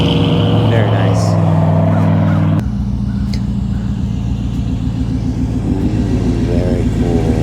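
A 1933 Ford sedan hot rod with headers runs with a loud, deep, throbbing engine rumble. It idles evenly, then a sharp change shifts it to a rougher, burbling rumble that continues steadily.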